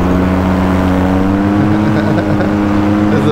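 A small aircraft's engine droning steadily and loudly from close by, a constant hum with strong low tones and no clear rise or fall of a passing flyby.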